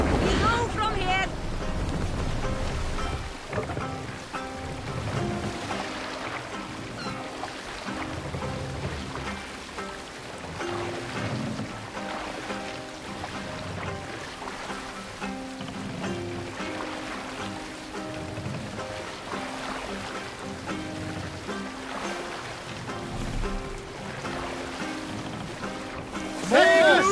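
A sailing ship moves across the sea in Assassin's Creed Valhalla, with a constant wash of water and wind that holds steady throughout. Game voices come and go over it.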